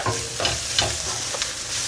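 Dried fish and onions fry in a pan while being stirred, giving a loud, close, continuous sizzle broken by quick scraping strokes of the spoon, with no voices.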